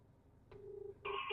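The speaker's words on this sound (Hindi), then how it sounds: "तो भाई कुछ इस तरीके से मैंने कॉल लगा दी है।" An outgoing call placed to an Onelap Go+ portable GPS tracker for cars: a short electronic tone, a pause, then a steady ringback tone starting, thin and clear in a quiet room.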